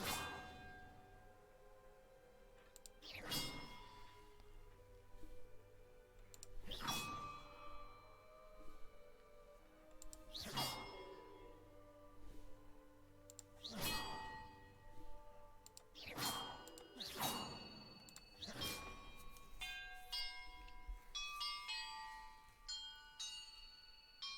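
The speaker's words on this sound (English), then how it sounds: "Perhaps the map contains clues about the order I'm supposed to ring the bells in." Bells ring in a puzzle in the Hogwarts Legacy video game, a series of separate resonant bell strikes spaced a few seconds apart, each decaying slowly, followed by a brighter cluster of chimes near the end.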